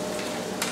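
Onions frying in a pan, a steady broadband sizzle with a brief brighter crackle near the end, heard alone.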